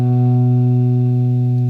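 A single note on a guitar's A string, fretted at the second fret and played through distortion and reverb, holds steady and loud throughout, sustaining alone without talk.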